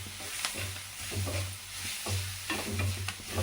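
Onion, coconut and green chilli sauté in a pan, a soft crackling fry broken by repeated scraping stirs of a spatula, fairly quiet and close.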